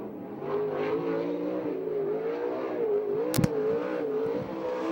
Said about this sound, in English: Car number 21 now on the track from Tulare, California.